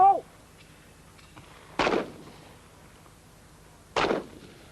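Two loud, sharp shotgun blasts about two seconds apart ring out with short echoing tails at a clay shooting competition, the Gamebore White Gold Cup of 1997, after a brief shout of a voice.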